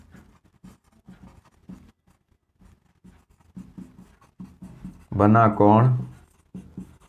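Chalk or marker scratches on a board as math is written during a lesson, short repeated strokes in an irregular rhythm at moderate level, with someone speaking briefly over them.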